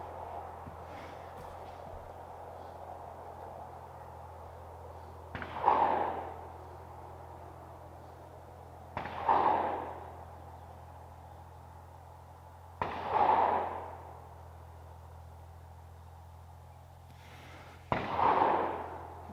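Four .22LR rifle shots fired at a target, each a sharp crack with a short echoing tail. They are spaced several seconds apart over a low steady background hum.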